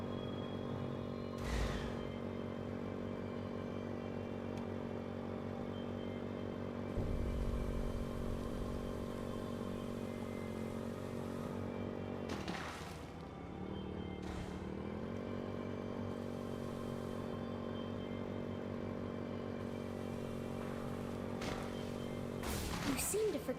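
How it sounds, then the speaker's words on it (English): A video game motorbike engine drones loudly and steadily throughout, with a brief revving dip and recovery midway and short clatters and knocks on top. "Stop killing my motorbike."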